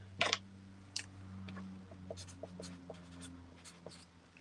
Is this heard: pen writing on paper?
yes